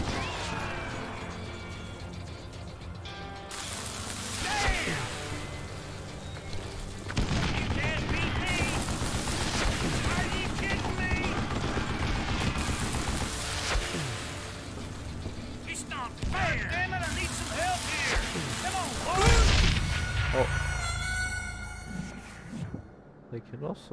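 Gunfire in a goat video game, bursts of rapid shots, crashes and mechanical clatter mixed with game music and effects, fairly loud and continuous, with a voice talking over parts of it.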